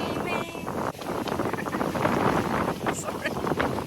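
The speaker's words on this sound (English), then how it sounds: "So that's why the wind came." Wind rushing past a sailboat out on the Atlantic Ocean, a constant close roar with gusting buffets against the microphone while a person talks over it.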